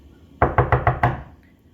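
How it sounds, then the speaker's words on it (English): Five sharp knocks in a quick, even rhythm, close and loud in a quiet dark setting, as in a children's story reading, with a short silence after. "And then he heard the knocking sound again."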